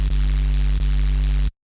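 A heavily distorted, noisy neuro bass synth patch drones loud and gritty, a steady harmonic-rich roar with brief dips where it retriggers, cutting off abruptly after about a second and a half.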